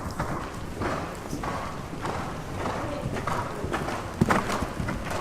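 Horse hooves clip-clop in a steady cantering rhythm during a dressage lesson in an arena at Sottens, close and continuous, with a single louder thud near the end.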